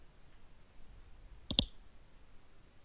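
A single sharp computer mouse click on a formatting button in a word processor, close and crisp against a faint, quiet background.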